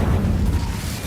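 An Incendio fire spell bursts in Hogwarts Legacy as a low, steady roaring rumble that lasts the full short clip, loud and close, with no talking.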